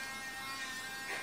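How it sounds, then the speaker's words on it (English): A teeny tiny toy-sized vacuum cleaner made for computer keyboards runs steadily with a thin, faint electric whine and buzz, unbroken for about a second with no talking. "my favorite of all is the teeny tiny little vacuum"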